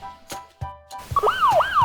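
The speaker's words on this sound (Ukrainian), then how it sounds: "А це сигнал сирена яка сповіщає, що їде швидка і треба поступитися дорогою." Ambulance siren rising and falling in a loud wailing sweep, preceded by a few short tonal blips before the siren swells and repeats twice.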